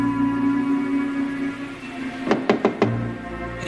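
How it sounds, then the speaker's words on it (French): Four quick knocks on a door over a steady low hum of background, close and clear, evenly spaced. "Il frappe à la porte."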